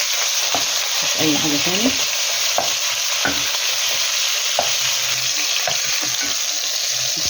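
Beef stir-fried in a hot pan with onion, black pepper and chili, giving a loud, continuous sizzle broken by clattering stirs and scrapes, with a brief voice over it.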